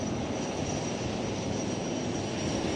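Naval helicopters in a fly-past, including advanced light helicopters and a Sea King 42B, a steady loud engine and rotor roar that fills the whole stretch without a break, with no talking.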